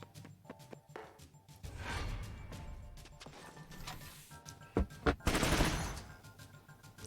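Bursts of gunfire from the tactical game Troubleshooter: Abandoned Children crack in several volleys, with a sharp louder cluster near the end over a low rumbling backdrop.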